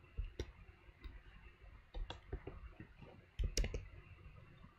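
A computer mouse clicking faintly and close by, a few sharp isolated clicks spread out with quiet gaps, one click doubled near the end, with no talk.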